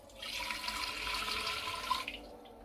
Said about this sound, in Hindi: तो इसके लिए सबसे पहले आपने घड़े में डालना है 1 गिलास पानी